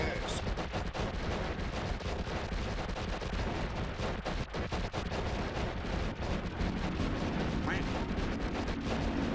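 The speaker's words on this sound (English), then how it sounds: "all those spells flying out of me was not me shooting my wand. That was just the auto firing" Spells auto-firing from a wand in the video game Noita, a dense, continuous barrage of gunfire-like blasts and crackling explosions that goes on without a break, loud and busy throughout.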